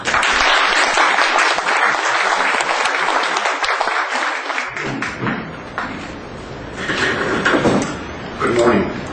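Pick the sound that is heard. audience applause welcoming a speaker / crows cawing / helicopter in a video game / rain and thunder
audience applause welcoming a speaker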